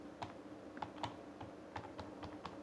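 Light keystrokes tapped on a computer keyboard while entering text in a spreadsheet, about a dozen quiet, irregular clicks spaced across a few seconds, close and alone.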